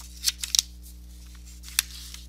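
Pen or pencil writing on paper while working algebra problems, a few sharp scratchy strokes and taps close up, separated by quiet gaps over a low steady hum.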